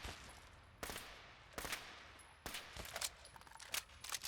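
Gunfire in the video game Fallout 4: sharp bursts of shots in irregular clusters, a few spaced single cracks followed by quicker rapid fire near the end, loud and close over a steady game ambience with no talking.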